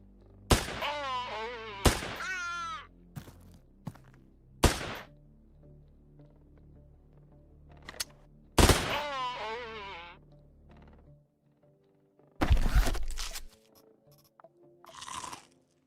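Gunfire in the video game Quasimorph: several sharp, loud shots spaced irregularly, some followed by ringing, descending tails, with a short burst of rapid shots near the end over a low background hum.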